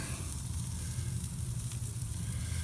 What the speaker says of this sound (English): I'm just gonna put the bacon right there over the fire and just crisp it up a little bit